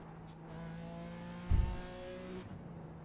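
A race car runs a lap at Barber Motorsports Park, its engine holding a steady in-car drone with a brief low thump midway, fairly faint and with no talk.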